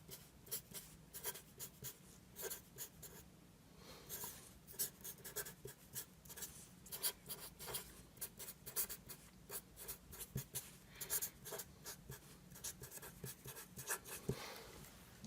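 A Sharpie marker writing large on a surface, quiet scratchy squeaks and strokes in an irregular, continuous rhythm, close and faint, with no voices.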